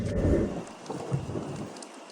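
A thunderstorm over an old church with a roof being washed: steady heavy rain hisses throughout, while deep rumbling thunder rolls and swells underneath, fairly close and loud, with no voices.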